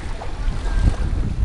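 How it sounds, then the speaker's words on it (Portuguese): Strong wind at the Uruaú lagoon in Beberibe, loud close gusts buffeting the microphone with a heavy low roar that surges and eases throughout. "O vento é muito grande"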